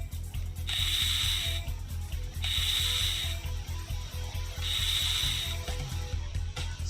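Screws are unscrewed from a gun in the World of Gun game: a steady, close, rapid ratcheting clicks, with three longer bright whirring bursts over it and no voices.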